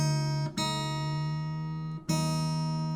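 Two sustained guitar E notes, the low E string and the high E string two octaves apart, each plucked and ringing for tuning, with a brief gap and a fresh strike near the end; clear and close with no talking.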